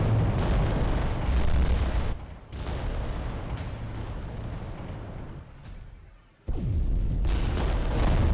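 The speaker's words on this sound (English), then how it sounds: "Comes the return fire." Return artillery fire booms in a Warhammer Adeptus Titanicus: Dominus skirmish, heavy rumbling blasts rolling one after another with a brief lull and a deep drop before a fresh loud burst resumes.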